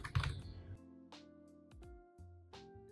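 Several quick keystrokes tap on a computer keyboard, sparse and close, as text is typed into animation software, with a low hum underneath and no voices.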